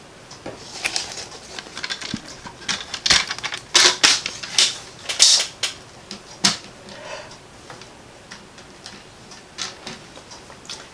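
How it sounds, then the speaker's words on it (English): A die-cutting machine crunches out pre-colored card pieces in a run of sharp, irregular clicks and snaps, with louder bursts in the middle, and no one speaking. "I am going to use my dies and cut out my pieces that I've already colored"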